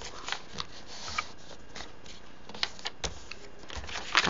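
A paper card being folded and creased diagonally while making a pop-up card, with crisp rustles and sharp little crackles at irregular moments, close, with no talk.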